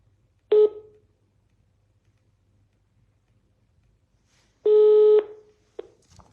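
Telephone keypad tones ring out alone in a quiet room: a short beep, a long pause, then a longer steady beep, followed by a faint click.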